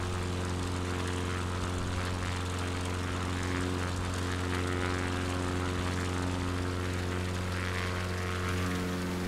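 A propeller aircraft drones steadily and loudly as it climbs out of Aberdeen Airport, its engine tone constant and close with strong harmonic hum throughout.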